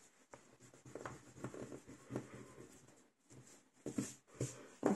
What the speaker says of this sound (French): passer un petit coup de gomme, hop là, pour enlever mes traits de crayon